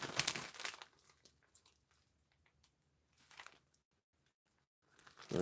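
A gift bag is handled and opened up close, with crinkly paper rustles in short bursts separated by quiet pauses, ending in a louder rustle.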